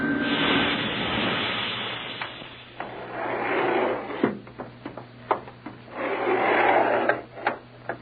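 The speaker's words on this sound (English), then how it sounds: "Sounds like another elevator coming." An arriving elevator in a radio drama sound effect, with a long rushing, rubbing mechanical approach that swells twice, broken by a series of sharp clunks and knocks as it settles.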